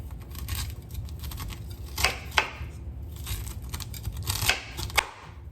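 Knife slicing charred corn kernels off the cob, a steady scraping with several sharp crisp cuts standing out, close and moderately loud.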